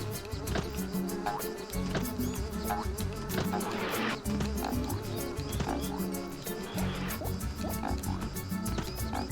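Buzzing of a fly character in The Emperor's New Groove video game, a steady insect drone layered over busy game music and effects throughout.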